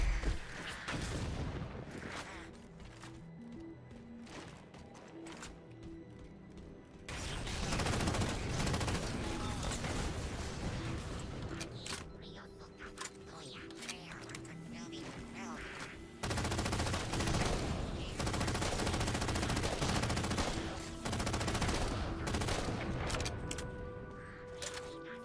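Saw machine gun fire in Halo 4 comes as long, sustained automatic bursts, loud and rattling, broken by short pauses between volleys, with background game sounds in the gaps.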